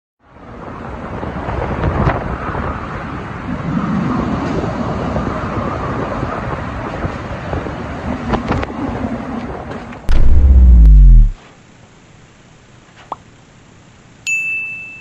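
Strong storm wind from Hurricane Ian roars steadily with broadband noise and mic buffeting for about ten seconds, followed by a loud thumping blast, then near quiet broken by a brief ping and a sharp high tone.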